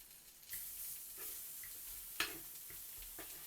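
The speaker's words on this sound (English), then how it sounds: "fry your spices before you add any liquid" Spices fry in a pan before any liquid goes in, giving a faint, steady sizzle broken by a few soft taps and clicks from stirring.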